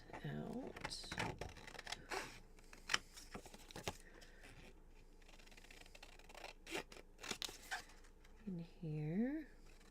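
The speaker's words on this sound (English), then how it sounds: "we're definitely going to need this pocket, so let's cut it" Scissors snip through paper to cut out a small pocket in a papercraft project, giving quick, close, crisp cuts in irregular bursts, with someone speaking softly between them.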